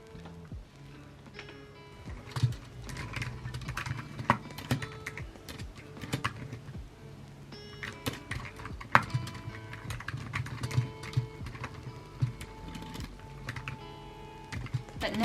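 Steady computer keyboard typing while a novel manuscript is drafted in a calm morning writing session, bursts of close, crisp keystrokes with brief pauses and occasional heavier key hits.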